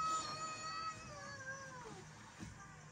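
A cat behind someone lets out a long, drawn-out meow that wavers and falls in pitch over about two seconds, fairly faint under a low background hiss, no talk.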